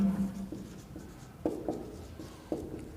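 Chalk or marker scratching on a classroom board during a science lesson, a series of short irregular strokes and taps, fairly faint, with no talk over it.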